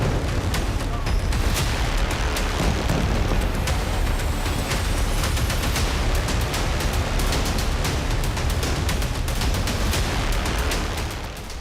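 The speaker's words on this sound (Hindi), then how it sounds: "धमाके पर धमाका।" A dense, unbroken barrage of explosions and blasts rumbles loudly, with sharp cracks layered over a heavy low roar throughout.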